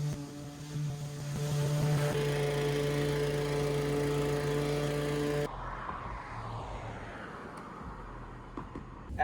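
A lawn mower at work during a solo yard-mowing job in Texas gives a loud, steady droning engine hum for several seconds, then gives way to a rougher, broadband rushing noise.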